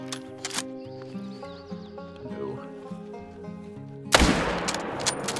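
One sharp rifle shot cracks out near the end during animal hunting in a video game, cutting abruptly through steady background music and leaving a noisy rush behind it.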